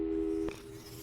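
A steady electronic phone busy tone in the video game Portal 2 that cuts off abruptly halfway through with a click, followed by a faint low hum.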